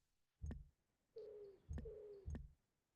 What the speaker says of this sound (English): And what's up with the pigeons?